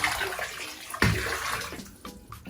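Hot water mixed with bleach sloshes and swishes around inside a bathtub, with a sharp splash partway through and softer movement before and after.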